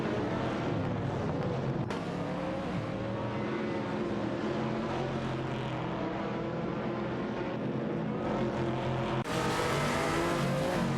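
Race cars roar through an AI-driven video game race, engines droning and revving continuously at close range with sharp shifts in pitch as cars pass, and no talking.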